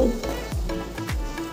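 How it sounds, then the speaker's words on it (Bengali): Chopped onion, tomato, salt, turmeric and spices frying in a pan, a steady close sizzle with faint stirring scrapes, no talking over it. "আর এদিকে এই যে মশলাটাও দিয়ে দিলাম, পেঁয়াজ কুচানো, টমেটো, নুন হলুদ,"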